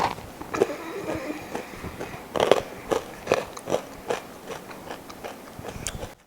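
Crisp Wingreens Farms Appitas chips are bitten and crunched close to the mic, with a series of sharp crackling bites and chewing bursts spread over several seconds, no talk.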